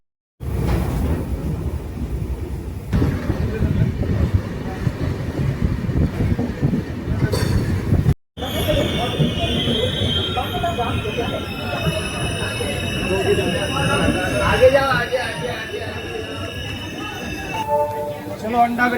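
Goa Express train pulling out of Khandwa station, a loud rumbling roll of wheels and carriages with squeals and clatter building after a brief cut, with a voice talking over it.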